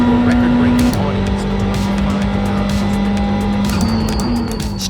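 Ferrari GT3 race cars run on track in iRacing, with a steady high engine drone that shifts pitch as gears change and tires squeal, under continuous talk.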